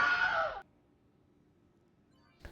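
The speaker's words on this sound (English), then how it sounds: "The old Willem scream." A Wilhelm scream sound effect, triggered by voice command in the space game Star Citizen, rings out as one loud, falling cry about half a second long, followed by near silence.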